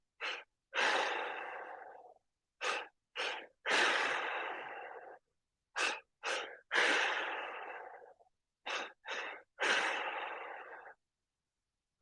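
Deep breathing during a meditation: slow rounds of two sharp inhales followed by a long audible exhale, repeated three times, close and clear with silence between the breaths.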